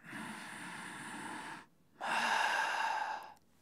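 A person breathing normally: one long, even inhale of about a second and a half, a brief pause, then a steady exhale. The breathing is close and clear, with no talking.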